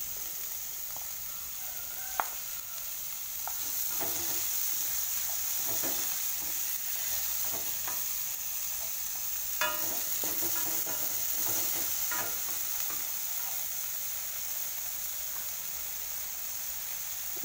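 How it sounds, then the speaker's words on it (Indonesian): Pepper, spring onion and celery stir-fry in a pan with a steady hissing sizzle, punctuated by occasional scraping stirs and clinks, with no talking. "Sedikit merica ya, kita tumiskan di sini supaya lebih wangi ya teman-teman"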